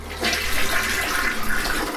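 A toilet flushing, a steady rushing swirl of water that starts abruptly and runs loud and close for about two seconds, with no voices.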